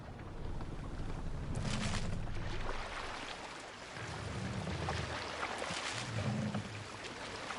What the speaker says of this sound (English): Good sailing wind here, Eivor.